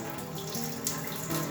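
Cold water pours steadily onto rice in a pot while making kimbap, a close, continuous splashing trickle with slight variations in flow and no speech.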